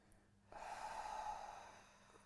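A single long, audible exhale through the mouth during a neck and jaw relaxation exercise, soft and breathy, close to the microphone, lasting over a second before fading.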